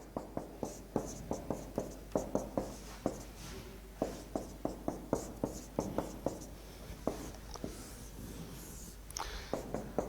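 A pen scratches out an equation in quick, close strokes, each a sharp tap-and-scrape repeating in an uneven rhythm.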